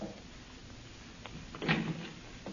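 A door opened in an old-time radio drama: a few light knocks and clicks, then a short scraping, rattling swing of the door, close and fairly quiet.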